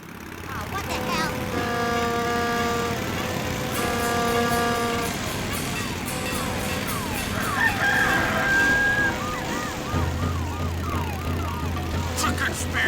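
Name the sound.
horns and live chickens from South Park episode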